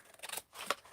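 Scissors snip a small triangle out of fabric for a handmade heirloom journal, giving a few quick, crisp, close cuts with a short pause between them.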